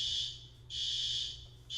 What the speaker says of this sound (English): I see fire alarm now.